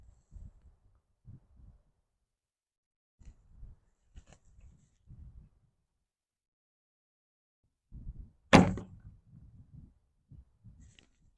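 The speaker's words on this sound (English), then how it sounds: "I'll shoot one more arrow just so you can hear that" An arrow loosed from a traditional hunting bow, a single sharp thump and string slap near the end, surrounded by faint low rustles and quiet handling noises.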